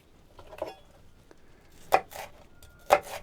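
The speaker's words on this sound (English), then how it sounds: "and slice them again" A kitchen knife chopping through bundled ingredients on a cutting board, a few sharp distinct chops spaced about a second apart, close and clear, with no talk.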